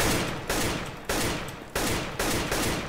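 Tap-shot gunfire in the video game CS:GO: five sharp, loud single rifle shots fired at a steady deliberate pace about half a second apart, each with a short decaying tail, no talking.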